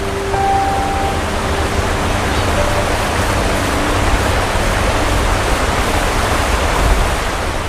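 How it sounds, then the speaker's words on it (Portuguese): Mountain streams rush over granite in the Serra da Estrela, a dense, steady roar of flowing water that stays loud and unbroken throughout, with no talk. "eventualmente se unem, formando cursos de água cada vez mais caudalosos"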